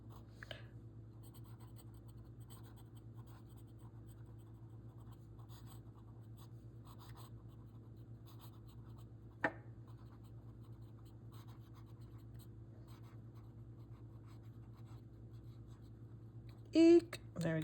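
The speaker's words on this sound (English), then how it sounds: "let me do a quick writing sample on this" A Kaweco Perkeo fountain pen with a medium nib writing on paper, a very faint soft scratching of strokes over a low steady hum, with a couple of brief louder bumps near the end.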